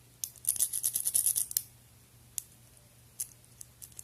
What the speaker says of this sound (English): I hear all those click, click, clicks